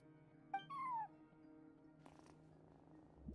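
A video game cat gives a short rising-falling meow, then a low purr and faint rustle, quiet and close over a soft steady game music drone.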